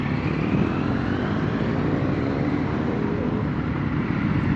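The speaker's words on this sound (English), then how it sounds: "one of them had an Antonello bike. Have a look at that. You can hear all the noise." Loud, steady engine roar of an Antonello motorcycle heard close by on a mountain road, a dense continuous drone mixed with wind and road noise throughout.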